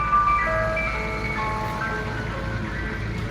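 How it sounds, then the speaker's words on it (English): Ice cream truck jingle drifting from outside, with thin tinkling melody notes over a steady low rumble of traffic and background hum, moderately loud and continuous. "That's the ice cream truck right there."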